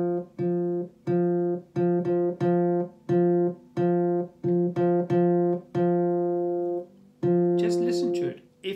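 A guitar string fretted at the third fret is plucked again and again, each note ringing briefly in a steady, slightly uneven rhythm, with a faint rasp at the end.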